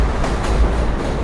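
A train rolling past near a bridge: a loud, steady low rumble and roar of wheels and cars, close by, with no pauses.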